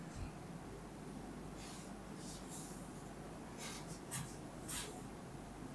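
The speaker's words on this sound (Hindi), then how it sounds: "ऐसे लिख रहा हूं मैं" Chalk or marker writing on a board during a Class XII maths lesson on indefinite integrals, heard as quiet scratchy strokes in short bursts. The strokes sit over a steady room hiss, with no voice over them.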